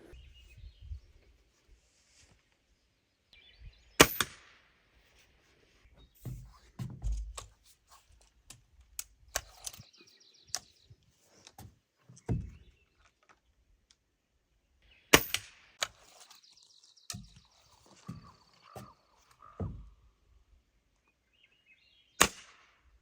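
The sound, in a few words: 10 round pellet gun shots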